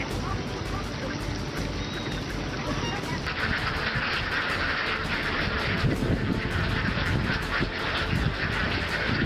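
Ducks in a rice paddy kept to control pests and weeds, honking and quacking steadily over a constant background hum with a broad hiss.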